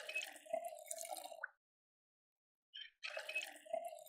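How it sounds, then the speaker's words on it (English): Water being filled in the Project Zomboid zombie survival game with the Hydrocraft mod, heard as two short bursts of trickling, dripping liquid separated by a second of silence, fairly quiet and with no talk. "we're going to go and fill up our water"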